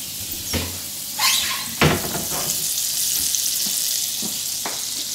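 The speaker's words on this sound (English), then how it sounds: "I'm going to put it into our skillet so we can get the butter going" Butter melts and sizzles in a hot skillet, a steady close crackling hiss broken by a few clinks and scrapes of a utensil against the pan.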